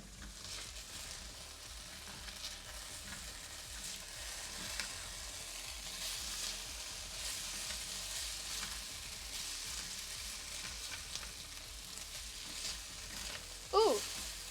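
Garlic browning in a hot pan gives a steady, low sizzle that runs throughout, with a brief clatter near the end and faint talk in the background.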